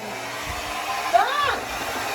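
A blow dryer with flour packed inside runs with a steady, loud whirring whine. Its pitch wavers briefly midway, and faint voices sound in the background.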